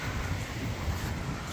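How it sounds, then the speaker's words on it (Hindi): Wind blows steadily outdoors on a mild, sunny day, making a low rumbling buffet that sounds like wind against a microphone, with no speech. "हवा चल रही है मज़े की"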